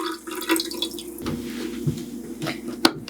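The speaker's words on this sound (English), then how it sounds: "Now you can just pour this into the tank." Ink poured from a bottle into the tank of an xTool apparel printer, giving a close, light trickling and dripping of liquid with small plastic clicks, fairly quiet and alone.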